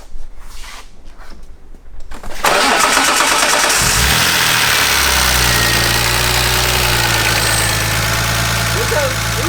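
A car with a fresh cylinder head cranks and fires up after a few quiet knocks, then settles into a loud, steady idle that rumbles on close by.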